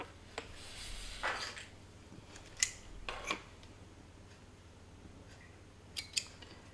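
Scissors snip through knitting yarn in a quiet room, a few sharp separate clicks and cuts spaced over several seconds, close and faint against low background hum.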